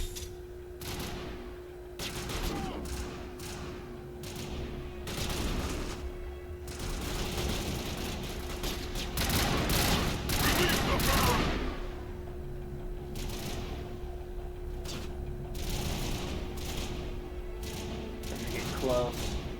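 Sustained gunfire in the video game Mass Effect, dense bursts of rapid shots and loud blasts running almost continuously over a steady electronic hum, with voices heard briefly amid the fighting.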